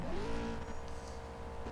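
In the CSR2 racing game, a Cadillac CTS-V engine revs up and holds a steady, droning rev before the race start. It is fairly loud and continuous, with no talk over it.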